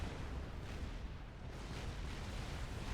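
A nuclear blast in the real-time strategy game Supreme Commander booms out as a dense, sustained rumbling roar that fills the whole stretch without letting up.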